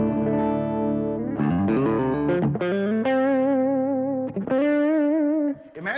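Electric guitar with single-coil pickups runs through a Klon overdrive pedal with its knobs set at noon, playing sustained, gritty overdriven chords and bends that ring loud and full, with short pauses between phrases.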